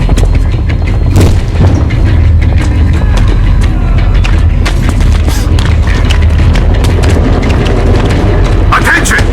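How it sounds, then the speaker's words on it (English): Heavy, sustained rumbling blasts from set explosive charges detonating in the video game Metro Exodus, loud and continuous with repeated booming impacts and crackling debris throughout. "charges are set. We have to reach the detonation device and use it."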